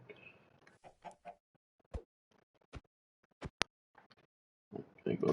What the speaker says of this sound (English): Get here, chicken.